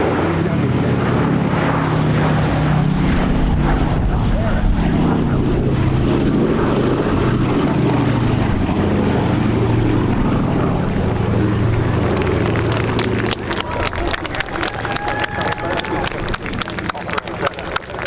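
A Boeing B-17G Flying Fortress, Sally B, makes a final pass at an air show, its piston engines a loud, steady roar under a public-address voice throughout, then thinning to a fainter drone with crowd noise near the end.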